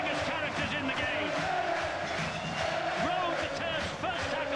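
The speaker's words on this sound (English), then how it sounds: "Biggest cheer of the night for one of the biggest characters in the game." A rugby league crowd at a 2010 Warrington v Hull match roars with cheers and shouts as captain Adrian Morley scores a try. The cheering is a loud, sustained wash of noise with commentary running over it.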